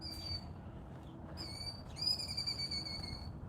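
A bird calls outdoors during a walk, with a few clear whistled notes rising over a faint, steady background hum.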